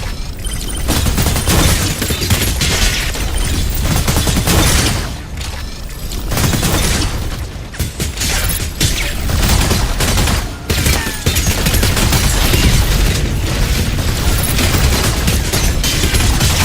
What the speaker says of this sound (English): Attack with energy autocannon.